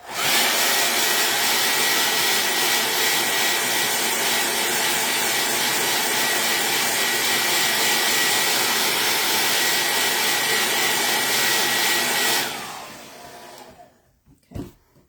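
A dryer blows steadily to dry a craft project, a loud, constant whooshing hiss that lasts about twelve seconds before cutting off, followed by a few faint handling sounds.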